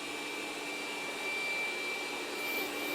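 A robot mop cleans the floor with a steady, even mechanical whir and a thin constant whine, heard alone with no voices.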